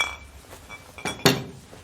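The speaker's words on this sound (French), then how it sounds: "tu veux qu'on trinque ?" Glasses clink together in a toast, a few short bright chimes in quiet surroundings, with one louder clear clink standing out near the end.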